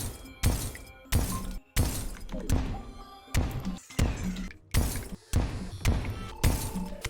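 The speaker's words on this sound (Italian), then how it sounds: "ecco il ghiaccio che si rompe" Ice blocks shattering in Terraria, a series of about eight sharp, loud crunching breaks repeating at a steady, roughly one-per-second pace, each with a brief crackling tail.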